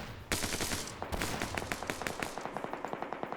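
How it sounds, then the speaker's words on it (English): A Mossberg gun fires in a PvP video game battle: a loud opening crack, then a rapid, regular string of more than a dozen shots, evenly paced and fairly close, with no voices. "The Mossberg shooting again."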